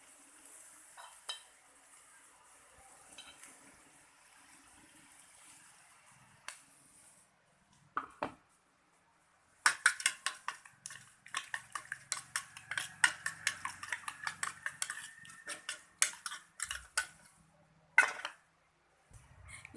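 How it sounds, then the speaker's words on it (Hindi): A fork whisks eggs mixed with fried onion in a bowl for a desi omelette, with rapid, uneven metallic clinks and scrapes that start after a quiet stretch and run on for about ten seconds. "अब इसे हम अपने आमलेट में डालकर फेंट कर उसका आमलेट बनाएंगे।"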